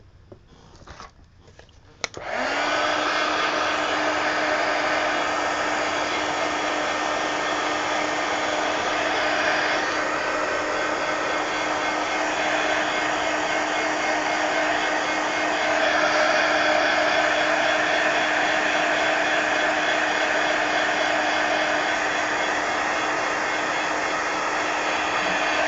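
A hair dryer clicks on after a brief fumble and then blows steadily and loudly for a long stretch, drying ink on a page of an altered book, its whine and rush of air constant throughout.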